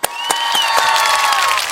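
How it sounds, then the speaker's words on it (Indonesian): Studio audience clapping steadily to welcome a guest star on a Sundanese talk show, a dense continuous patter of applause with a couple of sharp claps at the start. "tepuk tangan"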